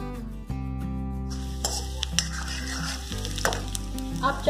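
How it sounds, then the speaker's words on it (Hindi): Onions frying in a pan as the base for sambhar, a steady soft sizzle with occasional stirring scrapes, close and moderately quiet, with no talking. "इसे फ्राई करेंगे जब तक इसमें गोल्डन कलर नहीं आ जाता।"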